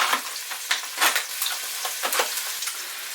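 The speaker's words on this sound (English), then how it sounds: "the next thing that goes in there is my meat" Minced beef and pork frying with onions in a hot pan, a loud, dense crackling sizzle with repeated bursts as it is stirred, close-up and steady without talk.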